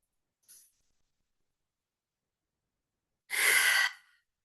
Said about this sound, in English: Going ahead and taking another deep breath right into that cauldron.